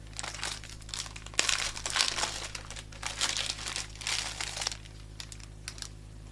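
A pack of prepared cards is handled close up, its wrapper crinkling and rustling in irregular bursts over a low steady hum, quiet and with no talking.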